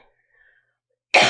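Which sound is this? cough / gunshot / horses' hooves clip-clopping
cough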